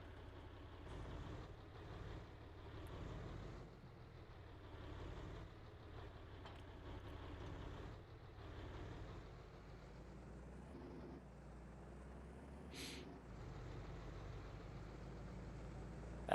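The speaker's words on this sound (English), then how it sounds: "That's a nice sounding tractor" A tractor engine runs in a farming video game, a steady, rumbling low drone that holds for the whole stretch, with a brief hiss near the end.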